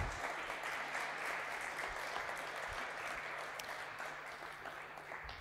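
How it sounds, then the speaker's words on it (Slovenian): An audience at an innovation festival applauds the robot Eva, a steady, even patter of many hands clapping at a moderate distance throughout. "Hvala robotki Evi in še jo pospremimo z enim aplavzem"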